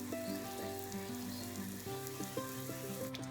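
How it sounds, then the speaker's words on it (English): Turkey cutlets frying in a hot pan on medium heat for turkey Milanese, a steady close crackling sizzle throughout with small pops near the end and no voices. "So now that everything's hot, I'm gonna start putting in the turkey."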